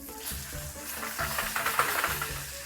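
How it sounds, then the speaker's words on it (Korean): Pork belly sizzles and crackles steadily in a hot pan as its fat renders into lard, a close, busy frying hiss with faint background music underneath. "공유해 드리려고 지금 삼겹살을 굽고 있는 중이에요"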